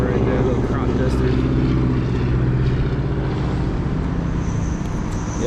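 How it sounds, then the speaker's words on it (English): Small crop duster plane flying over rural Indiana farmland, a steady droning engine roar that stays loud and continuous over wind and road noise from a moving motorcycle ride. "Plane flying over right there, little crop duster."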